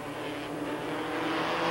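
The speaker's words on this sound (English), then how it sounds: "Back at Mosport, 32 cars lined up to take the green flag." Pack of 32 Porsche 944 race cars, 1986 Canadian Rothmans series, getting underway at Mosport: a steady, dense roar of many engines building slightly, loud and continuous throughout with no voices.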